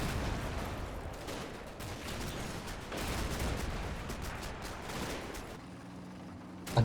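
Light armour on a second defence line opening fire during Operation Epsom at Mondrainville in the wargame Combat Mission: dense, sustained bursts of gunfire rattling in steady volleys at moderate distance, with no talk.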